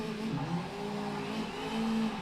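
A race car engine in a VR racing sim revs and launches from the pit lane at Brands Hatch Indy, as in a touring car series. The engine gives a steady, moderately quiet drone with a pitch that rises and falls slightly.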